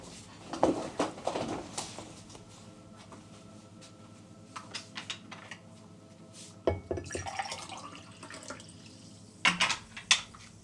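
Kitchen tap running water for a drink, with intermittent splashing and clinking bursts of a glass and sink, quiet gaps between, close by.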